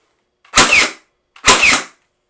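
An X-Shot AEB toy dart blaster fires twice, each shot a sharp pneumatic burst followed by a short whooshing hiss, the two evenly spaced about a second apart and loud and close.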